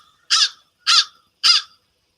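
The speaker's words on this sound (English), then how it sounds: "this is what the American crow sounds like" An American crow gives three evenly spaced, harsh caws, clear and close against a silent background.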